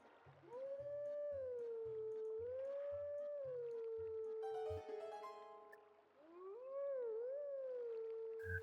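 Wolf howl in the video game Zelda Twilight Princess HD, a long, sustained wavering howl that rises and falls, with a steady rhythmic pulse beneath and a brief bright shimmer in the middle.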